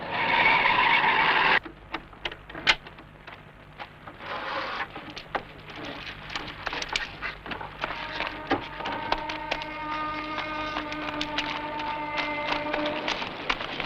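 A car skids to a halt with a loud harsh screech lasting over a second, then a quieter scene follows with scattered clicks and knocks and a steady tonal hum building toward the end.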